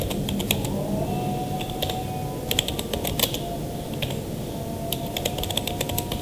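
Keys on a computer keyboard clatter in irregular quick bursts as data is entered into point-of-sale software, with moderate-level clicks over a steady room hum.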